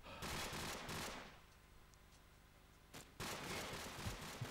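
Bursts of rapid gunfire rattle in Call of Duty 4 during a competitive match. Two dense, moderately faint volleys are separated by a quieter lull.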